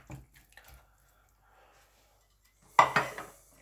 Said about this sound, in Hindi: सबसे पहले हम गोश्त को पकाने के लिए बर्तन में ऐड कर लेंगे